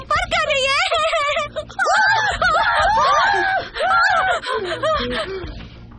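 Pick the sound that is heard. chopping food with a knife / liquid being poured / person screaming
person screaming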